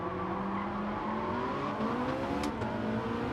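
A race car engine in Gran Turismo 7 revs hard, its pitch climbing in a sustained, rising drone, with a brief sharp squeal or crackle near the end, loud and close, no talk.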